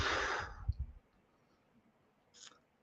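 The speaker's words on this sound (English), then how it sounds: "take a deep breath, blow it all out" A deep breath blown out slowly at the start of a guided relaxation, a broad breathy exhale lasting about a second, followed by quiet room tone and a faint short breath near the end.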